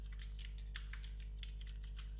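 Fingers tapping a computer keyboard while entering a query name in Microsoft Access 2013: a quick run of irregular, close clicks over a steady low electrical hum, with no speech.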